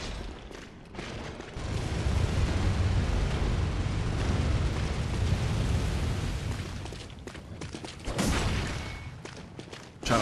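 Sustained heavy gunfire from a Gatling gun wielded by a hunter in Bloodborne, a dense continuous roar with booming bursts, swelling loud for several seconds, easing, then flaring again near the end.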